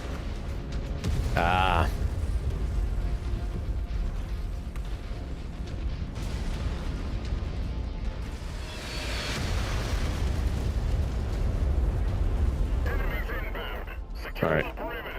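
Explosions in the mech combat game MechWarrior 5: Mercenaries, with deep booming blasts and rumbling weapon fire over a constant low drone, while someone talks and radio-style voice callouts break in.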